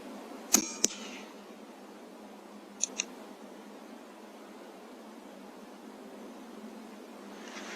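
Two sharp, close impacts of a 22LR subsonic hollow point bullet striking a rabbit at night, then a second fainter pair of cracks a couple of seconds later, all over a quiet, hissy background.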